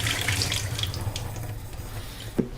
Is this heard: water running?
yes